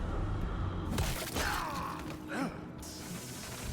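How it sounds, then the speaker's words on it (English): A visceral attack from the video game Bloodborne lands with a sharp shattering crunch around the one-second mark, followed by wavering, groaning tonal sweeps and a brief echoing whoop, then a fading hiss. "We got the visceral attack."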